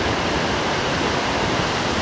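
Water of the Sitakunda waterfall rushes down in a dense, continuous roar. It is loud and steady and fills the whole clip, with no voices.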